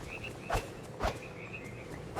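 Frogs croaking in the cozy life-sim game Disney Dreamlight Valley, two soft, short croaks about half a second apart over a faint ambient bed with light chirping, fairly quiet and alone without talk.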